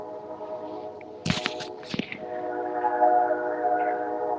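A train passing outside, a sustained tonal rumble with horn-like harmonics held throughout, interrupted briefly by sharp knocks and rustles close to the microphone.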